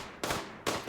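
Gunfire in the RimWorld video game, two sharp, faint cracking shots about half a second apart, each with a brief noisy tail, no voices over them.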